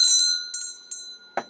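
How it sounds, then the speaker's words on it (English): A small handheld bell is rung several times, bright metallic dings ringing out clearly and close with long sustained tones, the strikes spaced irregularly, followed by a short soft thump at the end. "I'm going to ring a bell just for you"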